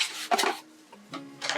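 A reed diffuser with oil and wooden reeds is lifted out of its box, giving a few short cardboard scrapes and rubbing rustles with a light clink, close and fairly loud.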